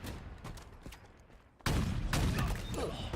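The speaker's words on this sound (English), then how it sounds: "What is this shooting?" Gunfire in a Halo video game: scattered single shots at first, then a sudden loud burst of rapid, dense firing that continues to the end.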